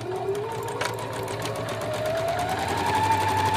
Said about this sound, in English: now we have our machine ready to go around the neck of the dress